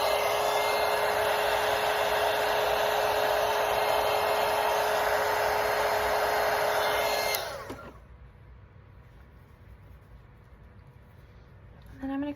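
Hair dryer blowing on a watercolour painting of a vintage Christmas truck, a loud steady whine that cuts off sharply partway through, leaving faint room noise and a small click at the end.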